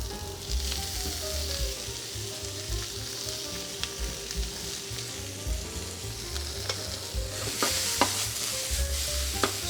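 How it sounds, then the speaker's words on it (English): Cremini mushrooms, braised Swiss chard and beef cheeks sizzle steadily in a hot pan while being stirred, with scraping utensil knocks and crackling spits over a continuous frying hiss; no talking. "gonna add our cremini mushrooms, our braised Swiss chard, and then gonna add our beef cheeks"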